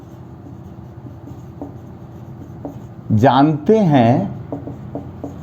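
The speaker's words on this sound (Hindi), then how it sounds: "अब हम एक एक सेंटेंस लिखते हैं" Marker or chalk scratching out a sentence on a board in short intermittent strokes, soft and close, while someone speaks Hindi over it midway.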